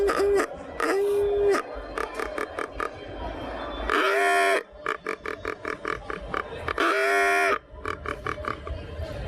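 Hog squeal imitated on a handheld game call, loud close blasts alternating with rapid series of short grunting chirps, repeated in a rhythmic pattern.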